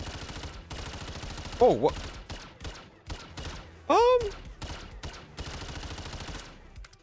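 Gunfire from a weapon in Call of Duty MW3 Zombies, with bursts of shots scattered through the clip, two louder sharp blasts and effect sweeps, and a brief exclaiming voice over it.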